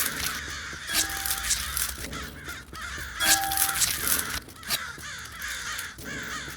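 Zombie crows caw repeatedly in the Hell Hunter audio game, harsh calls layered over a dense, noisy game soundscape with no pauses.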